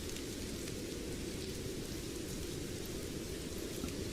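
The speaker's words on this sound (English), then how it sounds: "look at the rain coming down in at Prenton Park" Steady, dense rain pours down over Prenton Park football stadium during a Tranmere versus Bradford match, a continuous hiss with no voices, close and even throughout.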